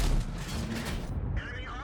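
A Strv 103B tank fires its gun in World of Tanks, a loud booming blast with a rumbling tail, followed by faint mechanical clatter and a voice speaking over it.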